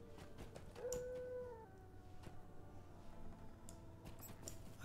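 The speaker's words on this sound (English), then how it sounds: "I can hear something howling." A creature howls in the Lord of the Rings Online video game, a faint drawn-out wail rising over a busy backdrop of ambient game sound and scattered clicks.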